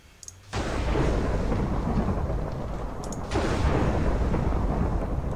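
Lightning strikes called down with glowstone through a Blood Magic spell in modded Minecraft FTB, two loud booming thunder cracks in a row, each a sudden crash rolling into a long, noisy rumble.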